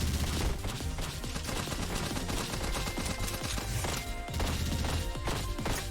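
Rapid gunfire from the One Step From Eden video game, a dense unbroken stream of shots and impacts that stays loud and busy from start to end.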